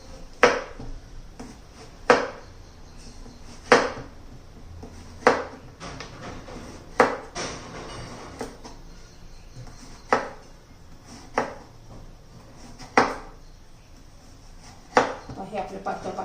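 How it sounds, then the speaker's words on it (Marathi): A knife slices a bottle gourd into thin rounds on a board, producing a steady series of crisp taps roughly every second or so, close and moderately loud, with soft kitchen background noise between cuts. "याचे पातळ पातळ असे काप करायचे"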